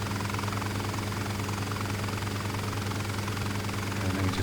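Bell 47 helicopter in Flight Simulator, a steady low rotor and piston-engine drone holding constant and moderately loud throughout, with no voices over it.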